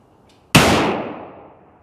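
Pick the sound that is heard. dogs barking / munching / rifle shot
rifle shot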